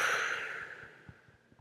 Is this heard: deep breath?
yes